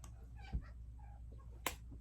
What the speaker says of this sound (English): This is my kitty, Gray, who is a schmoopsie